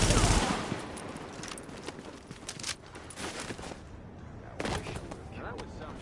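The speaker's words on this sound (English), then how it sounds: "That was some shooting." Gunfire in the video game The Division: rapid bursts of automatic weapon fire mixed with shots and impacts, loud and continuous across the stretch, with a voice briefly over it.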